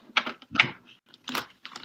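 Tarot cards are shuffled in several short riffling bursts, close and crisp, with brief gaps between them and no talking.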